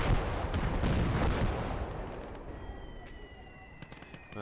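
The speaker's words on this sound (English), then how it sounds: "Man, they are bringing in so much artillery." Artillery fire from the World War II strategy game Call To Arms: Gates Of Hell, dense overlapping booming blasts and crackling impacts that are heavy at first and then thin out into scattered distant shots with faint whistling tones.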